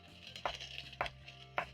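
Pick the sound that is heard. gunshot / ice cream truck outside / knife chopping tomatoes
knife chopping tomatoes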